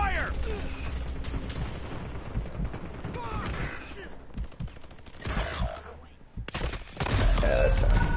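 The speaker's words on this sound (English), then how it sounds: "Taking effective fire!" Rapid bursts of gunfire in a Call of Duty Warzone match crackle beneath steady background noise, with a louder stretch of shots near the end and a player's voice calling out partway through.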